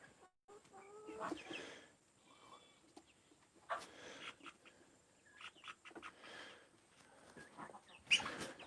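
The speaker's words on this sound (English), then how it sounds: "There's a barred rock hiding underneath the quail cage along with a Muscovy duck nesting" Caged farm birds including quail, a barred rock chicken and a Muscovy duck, giving scattered clucks and short calls at irregular intervals, fairly close, with a louder squawk near the end over a quiet barn background.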